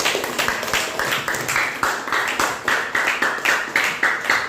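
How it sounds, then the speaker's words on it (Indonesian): A classroom of students applauds student groups with brisk, rhythmic clapping that pulses in regular waves, loud and close, with a faint voice briefly under the applause. "Sekali lagi kita beri aplaus pada masing-masing kelompok ya."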